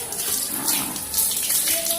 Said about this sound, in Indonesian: Ini air mengalir.